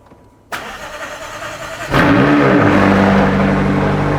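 A McLaren 675LT Spider with a nearly dead battery cranks at close range, then fires into a loud, steady idle that settles after a brief rise in revs.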